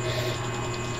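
A brace on an office table with three side drawers and a center drawer is locked into place during assembly, giving a brief, steady ratcheting mechanical grind close by.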